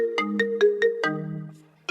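Telephone ringtone chiming in a clean repeating pattern of short bright tones, five quick rings then a held note, loud and close with nothing else.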